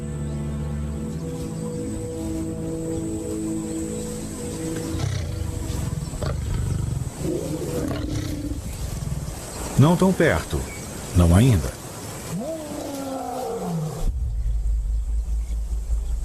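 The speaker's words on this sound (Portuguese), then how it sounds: "Esse não é o rugido de Bender." A male lion from a pride roars in the wild, a series of deep, rumbling, swelling roars at middle distance, with a narrator talking quietly over the start.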